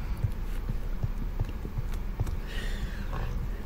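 Horse hooves clip-clopping in the Minecraft video game, a quick run of soft, regular hoof thuds over a steady background hum, with no talking.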